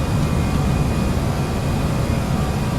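An Airbus A318 rotates on its takeoff roll in FSX, with a loud, constant jet engine roar and broadband rumble filling the whole stretch.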